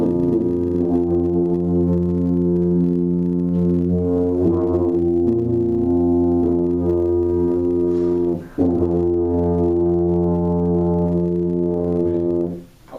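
A tuba section sustains a loud, steady B flat together for about thirteen seconds, with a brief dip near the middle before the note resumes and fades out at the end.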